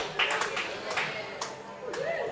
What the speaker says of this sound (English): the crowd's getting a bit noisy, and so they should